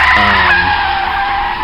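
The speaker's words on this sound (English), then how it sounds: "He slams on the brakes" A loud, continuous screech of tires skidding as a car's brakes are slammed, a harsh high squeal with engine rumble beneath, sustained close up before easing slightly.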